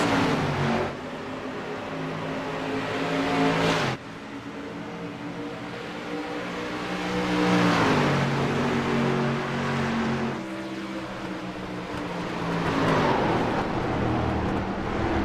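Race cars at Phoenix roaring down the front stretch in a close drag race, engines droning loudly and continuously with rising pitch as they accelerate, a sharp cut midway and crowd-like track ambience underneath.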